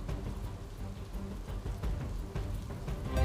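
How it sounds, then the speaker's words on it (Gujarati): Steady rain falling across Surat city after a long dry spell, a soft continuous patter with a few louder drops, no voices. "લાંબા વિરામ બાદ ફરીથી વરસાદે દેખા દીધી છે"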